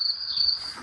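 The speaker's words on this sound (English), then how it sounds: "Cricket. Where's my cricket?" A cricket gives a brief, shrill chirp, a thin high trill close by that lasts under a second and fades out, with nothing else heard.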